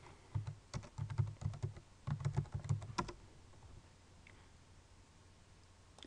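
Close, quiet keystrokes on a computer keyboard come in two quick bursts of typing, then stop, leaving faint room hiss.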